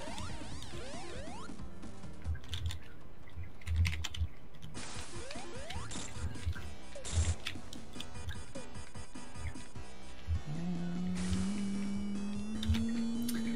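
Computer keyboard clacks in scattered bursts under loud game music and sound effects from a Sonic the Hedgehog 3 race, the key taps faint and partly masked.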